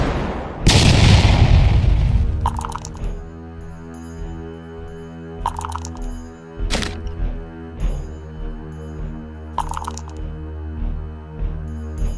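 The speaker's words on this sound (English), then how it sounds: "Cog fired a round into Victor, catching both Brill and the Midnight Warcaster in the blast." Gunfire and a booming blast staged as effects for a Warmachine MK4 tabletop battle, with a heavy opening explosion followed by several sharp shot cracks and thuds over a continuous low musical drone, loud and close.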